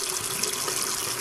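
Steady stream of tap water running into a sink over children's hands, a continuous close splashing rush with no pauses.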